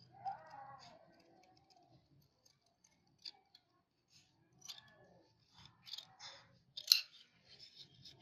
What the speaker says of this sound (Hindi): तो यहाँ से हम सबसे पहले गोल गले की शेप काटेंगे।